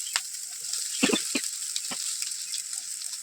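Vermicelli stirred with carrots and beans in a hot pan: a few scattered spatula scrapes and clinks against the pan over a steady faint sizzle.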